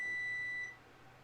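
A phone lets out a single steady high-pitched electronic beep that holds for most of a second, then cuts off, leaving faint room hiss.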